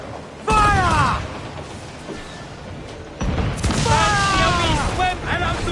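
Ship cannons in Assassin's Creed Black Flag fire in two loud booming volleys, each with whooshing, creaking tails, set in a naval battle with shouting crew voices underneath.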